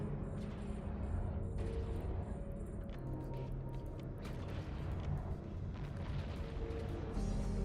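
Video game gunfire while shooting enemies: dense, rapid booming shots and blasts rattle on throughout, loud and continuous, over a low rumbling game soundscape with no talking.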